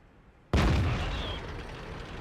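A Type 61 tank's main gun fires in World of Tanks after a quiet lead-in, a single sudden loud boom that decays into a long rumbling echo with a faint whistling trace.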